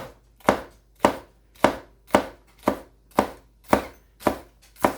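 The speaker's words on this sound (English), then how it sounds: "lean the cleaver at an angle, and just go back and forth" A cleaver chops food on a cutting board in a steady rhythm, nine crisp, evenly spaced knocks about half a second apart, close and clear with no talking.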